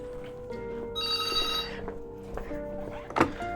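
A phone rings indoors in Manali during a meal, with bright electronic ringtone bursts and a quieter tone, followed by a clunk of handling near the end.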